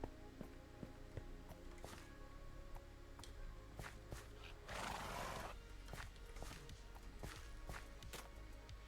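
A horse in a stable whinnies loudly in a long rough burst partway through, while hooves clop and shuffle on and off around it against a steady low hum.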